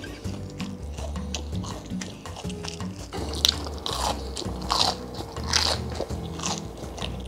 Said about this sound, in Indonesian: gue dari tadi nggak berhenti ngunyah nih